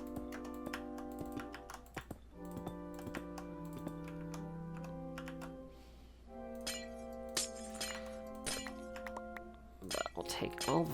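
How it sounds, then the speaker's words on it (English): Glass blocks being broken with a pickaxe in Minecraft: a string of bright, clinking glass-shatter sounds, some clustered quickly together, close and clear over steady background music. "use the pickaxe to break glass blocks, because it makes it so much easier"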